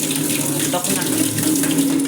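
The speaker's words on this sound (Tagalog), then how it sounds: "Hugas ko na si Kawali." Water streams loudly from a kitchen tap while a wok, a kawali, is washed, a dense, continuous splashing rush with no pauses.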